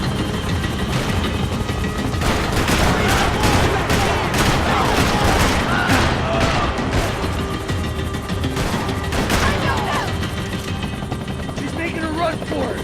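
Rapid bursts of gunfire crackle through a chaotic Max Payne 3 shootout, with dense fusillades and crashes over a constant helicopter drone, loud and sustained while voices shout in between.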